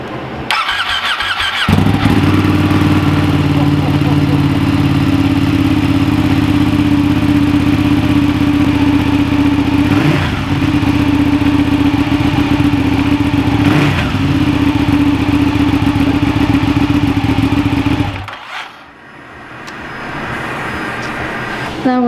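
Ducati Panigale motorcycle fitted with a clear clutch cover: the engine starts, then idles loudly and steadily up close for about sixteen seconds with slight rev changes before cutting off, faint voices around.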